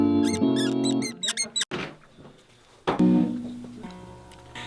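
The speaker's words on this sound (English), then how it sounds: "It's squeaking right on that thing." A part on the road squeaks repeatedly for lack of grease, sharp high-pitched chirps in quick bursts, close and loud, with a thud and clatter partway through before the squeaking resumes.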